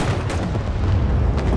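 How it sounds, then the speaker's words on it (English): A large explosion in a military video game set in an urban battle, with armored vehicles such as a Bradley nearby, comes through as a dense, sustained low rumble that sits close and loud, with no talk. "We have a large explosion"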